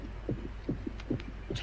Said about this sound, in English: Heartbeat.